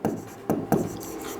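A pen writes maths working on paper in three quick, close scratching strokes, each a soft rasp of a fraction of a second, with no talking.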